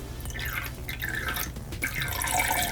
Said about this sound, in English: I have not forgotten our royal llama and her spitting capabilities